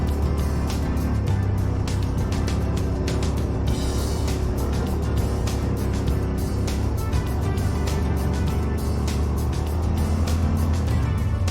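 A Yamaha RMAX1000 side-by-side drives along a main dirt road in Newfoundland, its engine giving a steady, loud, continuous drone with rumbling low end and gravelly road noise throughout.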